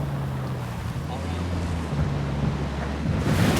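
Video game vehicle, a Jeep from Ghost Recon Wildlands, driving off a dirt road into water, with a steady rushing wash and low engine hum building louder near the end, no talk over it.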